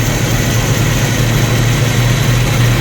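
A 1990 Jeep YJ's 4.2L inline-six with a freshly fitted carburetor idles steadily and loudly up close, a continuous low rumble with no talk over it.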